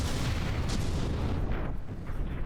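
Battleship guns and vertically launched missiles fire in the naval combat game From the Depths, a dense rumbling barrage of overlapping booms and launches, loud and continuous, with a few sharper bursts rising out of the roar.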